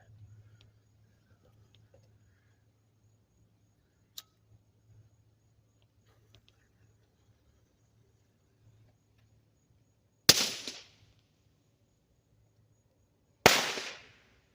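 A firecracker cannon built from a used Roman candle tube fires two sharp, loud reports a few seconds apart, preceded by a faint tick and a quiet low hum.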